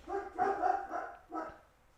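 Dogs bark at a passerby: several muffled barks come from somewhere back in the house, in two quick bursts and then one more after a short pause, fairly quiet and with no voices over them.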